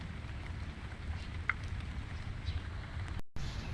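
Rain falls on a farm, a steady soft hiss with low wind rumble and occasional drips, fairly faint and continuous, with a brief dropout near the end.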